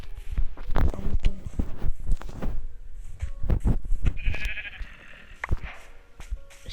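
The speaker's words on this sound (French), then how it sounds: "Un mouton." A sheep in a Minecraft-style survival game bleats several times amid footsteps and other in-game clicks and thumps, with a brief higher tone near the end, loud and close.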